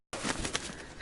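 A bird flapping off in a video game, a short burst of wing flutter with a faint coo, close and fairly loud in a one-second rush.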